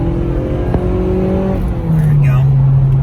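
A 2006 Mazda Miata LE with a factory removable hardtop accelerates up a freeway on-ramp, its engine drone steady and loud in the cabin and rising in pitch as it shifts, while someone talks over it.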